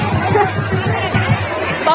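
Dense hubbub of a busy crowd at a night-time village madai fair in Chhattisgarh, overlapping voices and chatter filling the space steadily with no single voice standing out.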